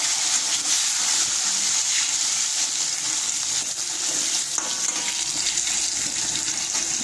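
Fish frying in hot oil in a pan, a steady, dense sizzle and crackle that holds at an even loudness throughout, with no voices.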